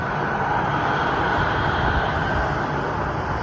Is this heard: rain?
no